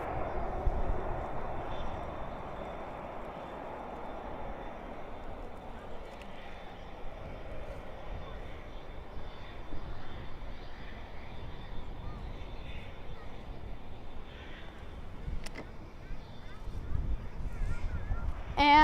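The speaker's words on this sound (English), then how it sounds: "Up next, we do have Sun Country in the newest livery. It is departing to Minneapolis, flight" Sun Country airliner in its newest livery departing Dallas/Fort Worth at night for Minneapolis, flight 504; a steady, broad jet roar holds throughout, swelling slightly toward the end.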